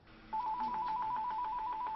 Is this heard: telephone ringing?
yes